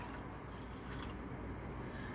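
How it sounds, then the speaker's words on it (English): Water, 300 milliliters, being poured into a glycerin mixture for making biodegradable plastic, giving a steady, continuous splashing pour that stays even and moderately loud. "we're going to add 300 milliliters of water"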